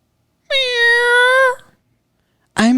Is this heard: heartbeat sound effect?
no